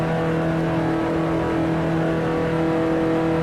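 A 1955 Formula One car in Grand Prix Legends drives into the pit lane, its engine holding a loud, steady drone with constant tonal hum and no pauses.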